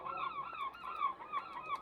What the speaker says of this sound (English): No, that's a seagull.